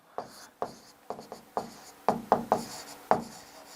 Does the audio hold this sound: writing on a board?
yes